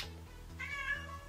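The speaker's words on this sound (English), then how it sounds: "My cat wants to join the video." A pet cat named Mitzi lets out one clear meow over a steady low rhythmic hum in a room.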